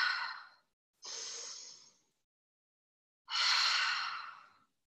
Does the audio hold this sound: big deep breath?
yes